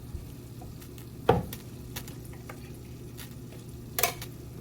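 A spoon stirs corn, peas, carrots, onions and celery into cream of mushroom soup in a pot, with two sharp clinks against the pan over a low hum and soft scraping.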